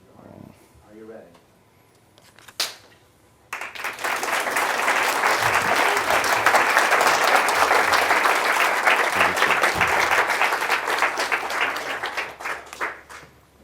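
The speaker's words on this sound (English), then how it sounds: "this is a single clap for the camera, but then I invite you all to clap and welcome our guest, Andrew Harvey" An audience at a Friday night Shabbaton gathering breaks into sustained, loud applause to welcome guest Andrew Harvey, after a single sharp clap and a few quiet moments, the clapping swelling and holding steady for around ten seconds.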